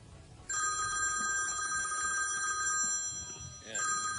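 A mobile phone rings with a steady electronic tone, briefly pausing before starting again, while people talk over it on a television variety show set.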